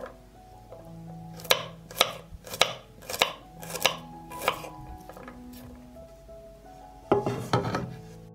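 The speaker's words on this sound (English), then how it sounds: "I will chop the garlic." Garlic chopped on a board with a knife, about eight distinct crisp chops at a steady uneven rhythm, followed by a short burst of quicker scraping or chopping, close and clear with no talking.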